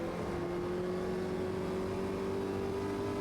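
Formula Vee race car in the Automobilista 2 racing game at Laguna Seca: a quiet, unbroken engine whine with a slowly rising tone and no speech.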